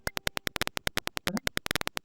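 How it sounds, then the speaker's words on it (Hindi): An electronic buzzer on a dustbin fill-level project beeps in rapid, repeating pulses, loud and close, some pulses bunched irregularly. "और साथ में आपको एक बजर का साउंड"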